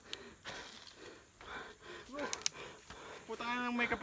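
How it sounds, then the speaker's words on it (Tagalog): Heavy, laboured breathing from hikers climbing a steep mountain trail on Mt. Bangkay, with gasps and snorting breaths close to the microphone. Faint voices can be heard in the background. "Bigat na rin po ng paghinga natin."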